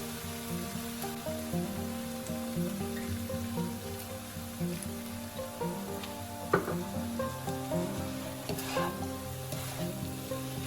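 Kimchi fried rice sizzling in a pan after soy sauce and kimchi juice are added, a dense, steady frying crackle up close with occasional stirring scrapes.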